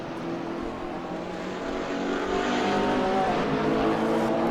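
A BMW GT race car runs at speed around the Zandvoort circuit, a steady engine drone heard from a distance that swells a little louder toward the end, with no talking.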